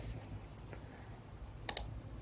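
Pen tool being used in design software, with a couple of faint, quick computer clicks near the end against a quiet room background.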